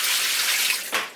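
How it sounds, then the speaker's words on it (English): Dirty mop water poured out of a plastic mop bucket, a steady close splashing rush that ends with a brief final gush. "So when you're done, you can just dump out all the water."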